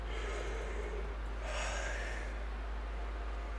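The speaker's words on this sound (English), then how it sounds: "I just gotta keep breathing" Heavy, close breathing after exertion, two gasping breaths with a sighing exhale over a low steady hum, no words spoken.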